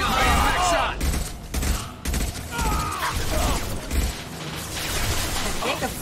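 Dense gunfire fills a firefight in Mass Effect 2, with rapid overlapping shots, mechanical weapon clatter and bursts of loud fire, while voices talk over the combat.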